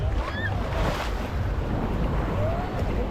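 Ocean surf washes onto the shore at Playa del Carmen, a steady, broad rush of waves mixed with gusting wind noise on the microphone, continuous and fairly close.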